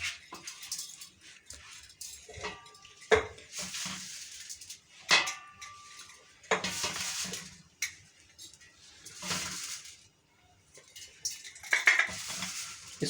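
Rose petal gulkand mixture spooned into a glass jar: a series of soft scrapes, dull clinks and thuds of spoon against jar, irregular and close, with quiet gaps between.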